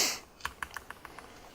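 Computer keyboard typing: a quick run of about eight crisp key clicks, close and moderately loud, after a brief burst of noise at the start, with no voices.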